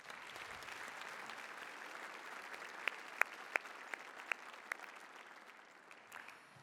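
An audience at a Holmesglen awards day ceremony applauds steadily in a hall, a soft, sustained patter of many hands with a few sharper, louder claps standing out near the middle.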